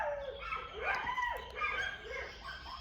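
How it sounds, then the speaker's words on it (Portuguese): Several dogs howling in a long, wavering chorus, rising and falling tones overlapping continuously at moderate distance, outdoors in the morning. "os uivos dos meus cachorros"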